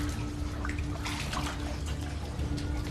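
Water of an underground river flowing through a dark cave, a steady broadband rush with trickling and dripping detail, continuous and fairly close throughout.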